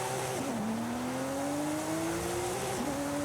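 Engine of a 2012 Porsche GT2 RS from Forza Horizon 5 climbs hard in steady high revs along the Cathedral Circuit, falling at two gear shifts before rising again, loud and continuous with no talk.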